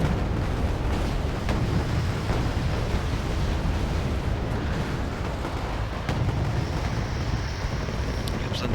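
A rotary rocket barrage explodes in the Wargame Airland Battle video game as a dense, continuous roar of overlapping blasts and rumble, with loud, sustained and distant-sounding booms throughout.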